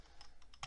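Faint keystrokes tap out a short equation on a computer keyboard, a handful of soft clicks in irregular rhythm ending in one sharper press.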